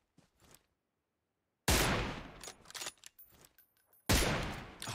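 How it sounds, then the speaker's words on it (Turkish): Bursts of gunfire in the mobile game PUBG Mobile: a faint crackle early, then loud sustained volleys of shots with short pauses, and another heavy burst near the end. "Bir çatışma sesleri falan geldi şu köprü tarafı falan."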